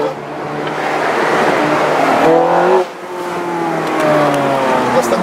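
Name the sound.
Ferrari F430 Scuderia engine while cornering at full throttle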